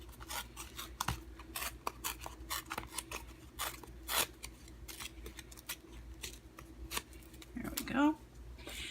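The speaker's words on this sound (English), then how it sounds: "we're going to tear just a little bit away from the edge, tear towards you" Cardstock torn by hand for a handmade card, giving a steady run of short, crisp ripping and rustling bursts close by, ending in a longer tear.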